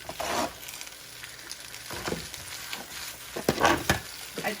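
Cheesy spaghetti being stirred in a pan on the stove, with bursts of sizzling and scraping as the pasta is mixed, separated by quieter pauses.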